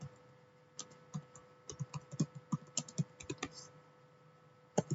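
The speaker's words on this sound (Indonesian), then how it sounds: "Kemudian untuk melihat statusnya kita ketikkan" A computer keyboard clatters as a switch status command is typed, with a steady run of fairly close, evenly paced keystrokes and a final firmer tap, probably the Enter key.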